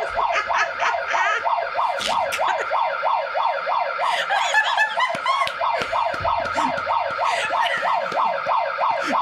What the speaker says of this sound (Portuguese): A sirene da polícia.